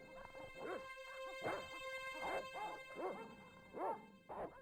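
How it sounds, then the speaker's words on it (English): Dogs bark repeatedly in the Broken Sword video game, a run of sharp, moderately loud barks and yips in an uneven rhythm with a steady background hum. "once the dogs start barking"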